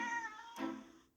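A cat named Ralph meows twice in quick succession, a clear, close, drawn-out call followed by a shorter, brighter one, with no talking.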